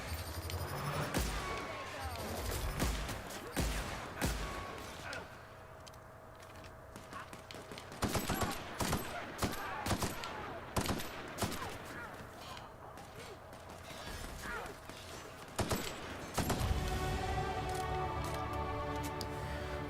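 Gunfire in The Outer Worlds video game sounds as sharp shots and rapid volleys in clusters against game music and ambience, with a voice talking at times.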